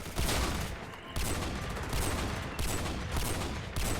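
Rapid bursts of heavy gunfire from a .50 cal weapon in a Roblox first-person shooter, loud and dense, with brief gaps near one and two and a half seconds between sustained volleys.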